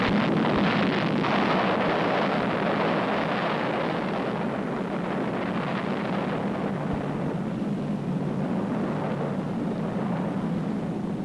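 First atomic bomb test explosion in the New Mexico desert in 1945, a loud rumbling roar that starts strong and slowly settles into a long, steady, wind-like low rush with no voices.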